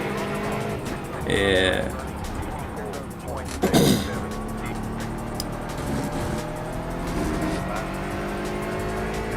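Prototype race cars in iRacing at Daytona whip past one after another, with engine roar, rising and falling passes, a brief tire squeal, and someone talking over the racing noise.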